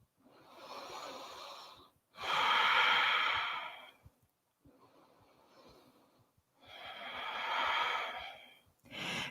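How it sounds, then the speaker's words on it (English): Slow, deep breaths during a yoga session, long airy inhales and exhales alternating with short quiet pauses, close and fairly loud with no talking. "Observe your breath."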